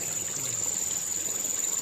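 A Luciocephalus pulcher pikehead fish released back into swamp water gives a soft, steady trickling and dribbling of water, close and continuous, with faint background hiss and no talk.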